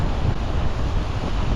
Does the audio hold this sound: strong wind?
yes